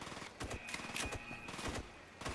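Rapid gunfire bursts in IGI 2, a tactical shooter, crack out over about two seconds, with several sharp repeated shots and a faint background tone, no voices.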